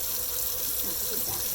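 Cold water running from a kitchen tap: a steady, close hiss of flowing water with no pauses.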